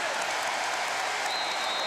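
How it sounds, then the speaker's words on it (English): A sold-out crowd at a college basketball game in Iowa City, Iowa Hawkeyes against Purdue Boilermakers, applauds in a dense, steady wash of clapping and crowd noise that fills the arena without a break. "This sold-out crowd enjoying it so far."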